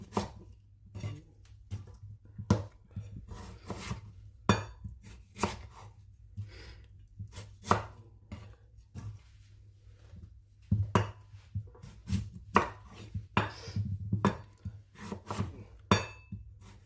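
A knife chops potatoes into wedges with irregular sharp thuds on a board, close and fairly quiet, over a low steady hum.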